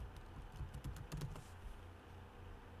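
A short run of keystrokes on a computer keyboard, about a dozen soft taps in a quick cluster, close and quiet over a low room hum, no voices.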